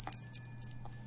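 A short bell-ring sound effect for a subscribe reminder: a bright, high metallic chime with sustained ringing tones and a few quick strikes, clear and close over a faint low hum.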